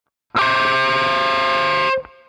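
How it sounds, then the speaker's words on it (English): A single distorted electric guitar note on the G string rings out loud and sustained, bending up just slightly in pitch before cutting off. "The first time is just the slightest of bends on the G string like this."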